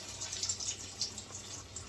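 Water trickles and splashes steadily into a pan holding corn on a home stovetop, a light, close pouring sound with no talking over it.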